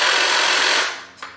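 A STIHL HSA 56 battery hedge trimmer runs with a loud, steady motor whine and clatter for most of a second, then fades off, with a brief blip at the end.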